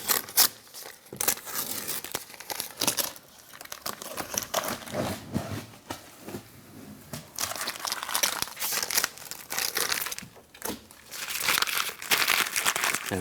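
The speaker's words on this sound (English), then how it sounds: "We'll take the tape off the window" Close, continuous crackling and tearing as tape is peeled off the window of a 2015-2020 GMC Yukon during a window regulator repair, with ripping surges and brief pauses throughout.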